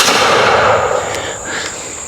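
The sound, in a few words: muzzleloader gun firing .50 caliber ball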